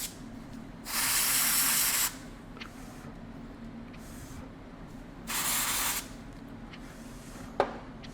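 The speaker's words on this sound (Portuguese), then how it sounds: "Vamos pegar um spray congelante aqui da Implastec, pessoal." Implastec freeze spray hisses onto an RX580 graphics card in two long bursts of about a second each, close and loud over a quiet background, followed later by a brief sharp click.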